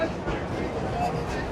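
A train rolls past in a steady, continuous rumble with faint rattling, moderately loud and unbroken throughout the short stretch, with no clear talking over it.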